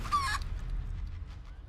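In the video game Divinity: Original Sin 2, a character transformed into a chicken gives a short, bright cluck at the start, followed by quiet low background hum.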